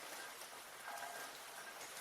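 Steady rain falls on a surface behind a black screen, a dense even hiss of drops that stays constant and close throughout, with no voices.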